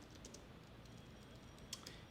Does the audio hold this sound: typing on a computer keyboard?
yes